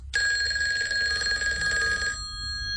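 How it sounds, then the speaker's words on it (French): A telephone rings in Marshal Pétain's room in Vichy in 1942. It gives a single loud, steady bell ring lasting about two seconds, then stops, leaving only quiet background. "Le téléphone sonne dans la chambre du maréchal Pétain."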